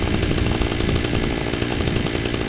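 Homemade moped powered by a string trimmer engine, buzzing at a high rasping two-stroke pitch with rapid pulsing, close and loud, steady throughout with no talking.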